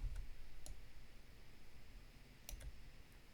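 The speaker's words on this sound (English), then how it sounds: "And then we'll click on here and we'll click enter" A few sharp, isolated computer mouse clicks sound close against a faint steady hum, spaced irregularly with pauses between them, while working in Houdini.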